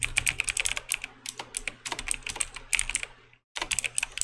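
Rapid, close clicking of fingers typing on a computer keyboard, a continuous run of keystrokes with brief pauses and one short silent gap near the end.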